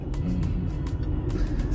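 A new car's engine runs with a steady low rumble close by, with faint clicks and rustles over the top and no talking.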